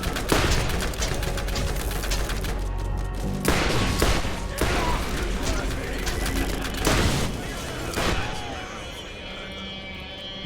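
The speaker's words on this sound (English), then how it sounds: "This gun is so good if you can hit it right." Rapid bursts of gunfire from a gun in Borderlands crackle loudly in repeated volleys, layered over game music and ambient effects, with a voice talking intermittently.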